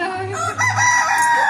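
A rooster crows loud and close in one drawn-out cock-a-doodle-doo that rises and then falls, with a Odisha home kitchen as the setting.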